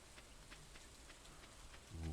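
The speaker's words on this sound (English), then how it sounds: "This is a normal rainy day as opposed to a weird green rainy day." Steady soft rainfall in the farming game Stardew Valley, a gentle continuous patter with faint drop ticks, quiet and unbroken throughout.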